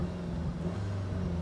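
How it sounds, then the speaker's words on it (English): SEAT Leon Cupra 2.0 TSI with DSG, 286 bhp, in Cupra mode, playing a synthesized engine note through its speakers: a steady, loud, low droning hum that holds without pauses. "you can hear that through the speakers you have that synthesized sound from the engine"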